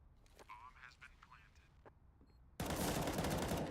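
Rapid automatic gunfire in a Counter-Strike match, a loud sustained burst that cuts in after a stretch of quieter game sounds and clicks, close and dense.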